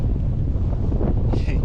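Strong wind buffets a small backpacking tent pitched on a mountain summit at Swirl How in the Lake District, a constant loud rushing roar with gusty microphone buffeting and a brief higher flutter near the end.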